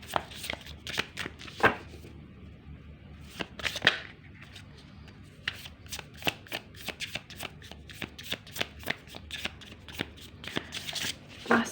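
Tarot cards are shuffled up close in quick riffling bursts of crisp slapping and fluttering card edges, repeating steadily with brief pauses between rounds.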